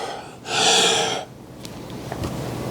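A man breathes heavily and gasps, with one long, harsh, loud intake of breath, then quieter panting and snorts that trail off.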